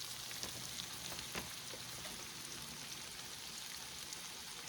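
Chicken wings for buffalo hot wings, dusted in flour, frying in hot oil: a dense, steady crackling sizzle with scattered pops, constant and close, with no talking.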